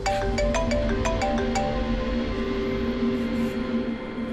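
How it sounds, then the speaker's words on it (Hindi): A phone ringtone plays loudly and close, a quick run of repeated electronic notes at the start and then a steady tone held to the end. "डॉक्टर सालुंकी का फोन था"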